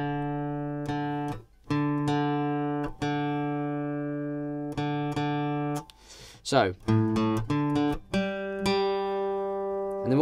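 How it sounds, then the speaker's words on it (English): A guitar D string is being tuned up, sounding as repeated plucked notes that ring out alongside a neighbouring reference string. Pitch bends are heard as the tuning peg turns, with a brief spoken word in between. "this D string beneath it needs to come up"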